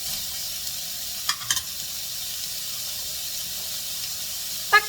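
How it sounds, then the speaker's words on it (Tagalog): Igado sizzling and frying in a pan while being stirred, a steady hiss of hot oil with a few sharp scraping clinks of the spoon against the pan. "Haluin lang po natin hanggang sa ma-mix lahat po."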